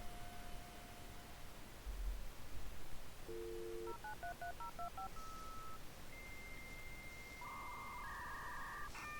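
A run of telephone dialing tones, short distinct DTMF beeps in quick succession followed by longer sustained tones, sits under a steady hiss of line noise and comes through fairly faint.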